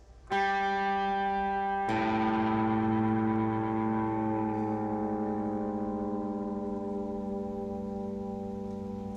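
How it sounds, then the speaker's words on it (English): A guitar string is plucked, then struck again and left ringing for a long sustain while its pitch is tuned down from A to G, close and alone. "We're going to tune that down as well to an open G."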